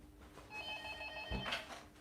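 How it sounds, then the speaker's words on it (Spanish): A telephone rings with a trilling electronic bell, one ring burst over the middle of the clip, moderately close, followed by a soft thump. "está sonando aquí el teléfono"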